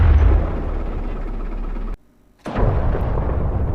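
Self-propelled artillery firing in DCS World, a heavy sustained rumble of gunfire and blast that cuts off abruptly, pauses in near silence for half a second, then resumes just as loud and dense.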